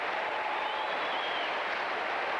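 Crowd of some 17,000 at Rupp Arena giving a warm round of applause at a state championship basketball game, a soft, even wash of clapping heard from a distance throughout.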